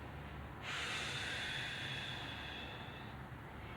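Children exhale together in a yoga exercise, producing a single long breathy rush of air that lasts a few seconds, close and soft, then fades.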